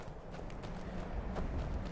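A horse in Skyrim clip-clops along at a steady walk, its hoof beats soft and evenly spaced over a dense game ambience, with no voices.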